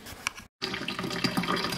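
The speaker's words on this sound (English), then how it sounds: "now we're in the process of just draining out the water through a colander" Water from simmered tourtière pie filling drains steadily through a colander in a home kitchen, a continuous close splashing trickle with a brief break partway through.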